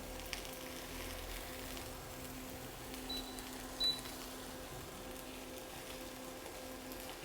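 Fish cake stir-fried with onion and green onion in a pan, giving a steady low sizzle with faint clicks of a utensil, continuous and fairly quiet without any talk.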